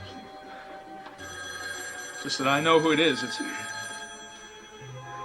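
A telephone bell rings repeatedly and goes unanswered at home while people talk over it.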